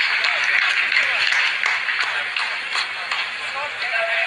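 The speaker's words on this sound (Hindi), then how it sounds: "आप इस तालियों के गड़गड़ाहट को सुन सकते हैं" A crowd of scientists in a mission control room claps continuously after a Chandrayaan-3 lunar landing phase, a dense patter of applause at steady volume with some shuffling mixed in.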